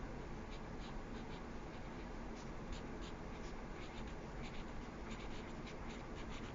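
Pencil scratching steadily across paper while a child traces a name in lowercase letters on a worksheet, soft continuous scribbling strokes heard close up with no talking.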